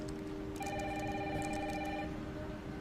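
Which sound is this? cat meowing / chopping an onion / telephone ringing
telephone ringing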